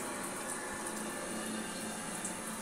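Steady hiss of hot water pouring from an instant electric hot water tap running at 51 degrees with a temperature controller, a continuous broadband wash without pause, close and fairly loud, no voices.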